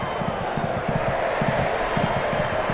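A football stadium crowd at an Argentina v Bolivia match rises in a broad, sustained roar at a suspected handball, steady and full throughout, with a commentator's voice running over it.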